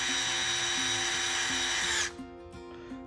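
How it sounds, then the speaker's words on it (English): An electric screwdriver whirs steadily as it drives a screw into a Tekno SCT410.3 short course RC truck kit, then cuts off abruptly, leaving a few faint clicks and handling sounds. "if you do want to fully tighten it with the electric screwdriver, just hold it loose"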